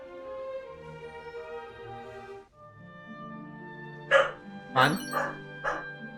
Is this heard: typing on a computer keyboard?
no